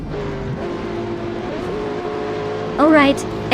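A Lamborghini Aventador and a Zonda race in a video game, their engines droning steadily close by with a rising whine near the end, all under continuous talk.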